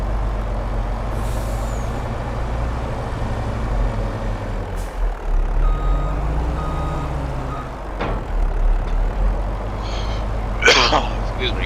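A heavy truck in Farming Simulator 22 rumbles with a low engine drone, hisses sharply from its air brakes, and gives several intermittent high beeps while maneuvering, ending in a loud burst of air release.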